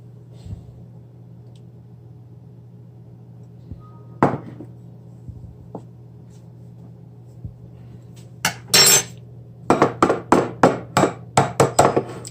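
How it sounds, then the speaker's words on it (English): Eggs are cracked against a bowl's rim for cake batter in a quiet room with a low hum: a single sharp knock, then a burst of handling, then a fast run of hard taps near the end. "as I'm cracking my last egg"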